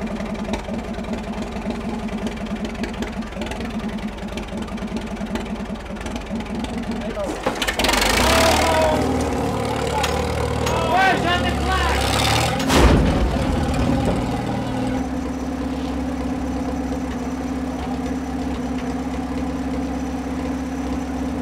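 A small motor vehicle's engine runs at a low idle, then revs up loudly as it pulls away in fourth gear, with a sharp burst of noise midway before settling back to a steady drone, and people talk over it.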